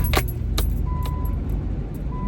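Keys jangle sharply several times close by as someone gets ready to start a newly repaired car, over a low steady rumble, with no talking.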